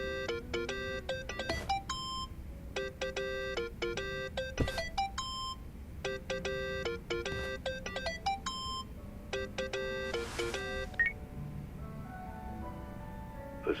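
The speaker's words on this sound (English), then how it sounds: "Think that's your phone, man." A phone ringtone in Yakuza: Like a Dragon plays a repeating electronic melody in bursts, clear and fairly loud, with short pauses between rings.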